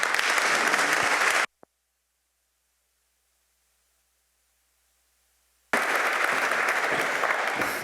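An audience applauds to welcome a chef to a cooking demonstration, a dense burst of clapping that cuts off into near silence for several seconds before a second round of loud clapping begins.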